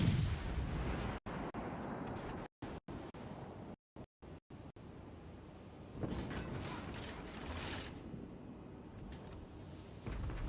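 Ship guns firing broadside in a naval video game, a continuous dense rumble of cannon fire with clanking mechanisms and sea wash, broken by several brief dropouts, loud and steady with no talk.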